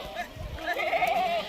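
Goats bleat at a goat farm stocked for Eid sacrifice sales, a wavering call rising over low background noise and rumble, fairly close and moderately loud.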